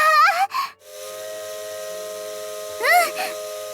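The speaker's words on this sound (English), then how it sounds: "The roaring steam whistle pitches as the blower valve opens." A steam locomotive whistle in the visual novel Maitetsu, a loud pitched blast with the steady roar of the blower valve opening, followed by a sustained hiss before a second sweeping whistle blast near the end.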